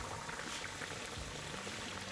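Battered fish slid into hot frying oil for fish and chips, giving a dense, continuous hiss and crackle of sizzling close by, steady throughout.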